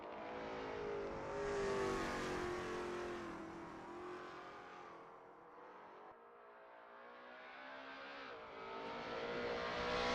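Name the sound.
Lola T70 MkII Spyder race cars at Road America in racing video game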